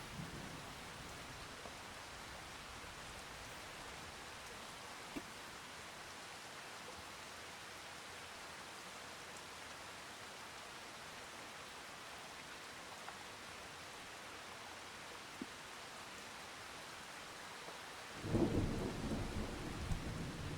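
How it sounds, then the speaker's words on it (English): Steady rain hisses throughout a thunderstorm in the farming video game Farming Simulator 25, with faint distant rumbles and a louder thunder burst near the end. "And it's raining."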